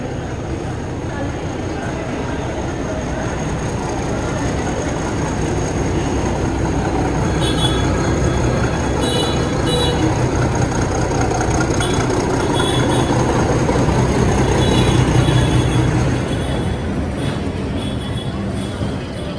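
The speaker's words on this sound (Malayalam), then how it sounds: "train number 17057 Mumbai CSMT ലിംഗംപള്ളി Devagiri express ഇതാ പ്ലാറ്റ്ഫോം നമ്പർ 14ലേക്ക് ഷണ്ടിങ് ചെയ്ത് വരികയാണ്" The Devagiri Express, train 17057 from Mumbai CSMT to Lingampalli, shunts into platform 14 with a heavy, continuous rumble of rolling wagons, punctuated by thin metallic wheel squeals and an idling engine drone.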